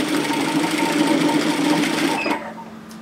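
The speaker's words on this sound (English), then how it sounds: "I'm going to sew through my overlocking line" Sewing machine running a seam along an overlocked edge while making a jacket, a close, loud, even whir of rapid stitching that stops abruptly near the end.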